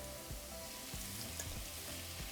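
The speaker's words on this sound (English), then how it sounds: "now we're just going to be frying them for about 5 minutes" Diced potatoes fry in a pan with a dense, steady sizzle, close and fairly quiet, broken by a few soft scraping stirs.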